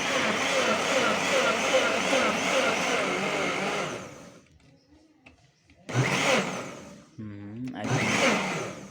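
Blender running at full speed as it chops onions for a curry, a loud steady whir that cuts out briefly and then starts again in short bursts, with someone speaking near the pauses.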